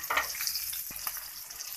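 Green chillies fry in hot oil with white cumin seeds, a close, steady sizzle with a few sharper crackles and pops.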